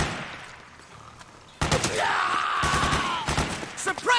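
Metal Gear Solid 4 gunfire erupts after a quiet stretch, loud close bursts of rapid shots crackling over one another, mixed with shouting voices and a whining tone.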